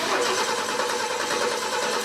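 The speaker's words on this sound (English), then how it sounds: "Engines were revving and sparks were flying at Bay College for the annual Skills USA Region 4 competition" Vehicle engine running hard in a workshop at a Skills USA regional student automotive competition at Bay College, a dense continuous roar held at steady loudness, close and without talk.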